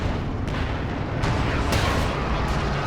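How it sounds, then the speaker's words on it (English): 105 artillery fires in a Company of Heroes 2 battle as a dense, continuous roar of distant booms and bursts, with a few sharper cracks standing out over the rumble. "105 artillery trying to force back the Soviet units"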